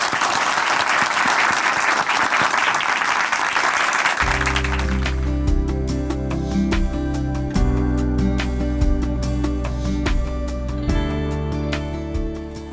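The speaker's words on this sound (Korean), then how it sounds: "박수로 모시겠습니다" A church audience at a testimony broadcast breaks into loud, sustained applause welcoming the speaker, dense clapping at first and then continuing under steady organ-like music.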